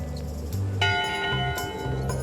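A ship's bell in Return to Monkey Island rings out clearly once with a bright, sustained metallic tone over a low musical background, with faint ringing tones around it.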